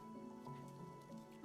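A watering can sprinkles plants in the video game Wanderstop, a faint, soft patter of droplets like light rain over a quiet musical drone, swelling briefly at the end.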